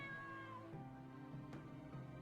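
A cat meows within a video game, a few short harmonic mews over a steady low background hum, with no talk heard.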